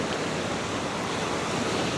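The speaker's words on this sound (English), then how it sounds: "We've got some waves going" Ocean waves roll onto a shore in a steady, dense wash of surf noise, loud and continuous, with some wind rumble and no voices.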